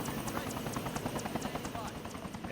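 An Arma 3 helicopter thuds with fast, regular rotor beats over a low engine drone on uneven ground, with a voice talking over it.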